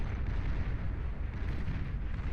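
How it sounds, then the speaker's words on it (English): Armada Quaker artillery in the strategy game Beyond All Reason firing off into the distance: a dense, continuous rumble of heavy booms and blasts with no voices. "Mauser, the Armada Quaker, firing off into the distance."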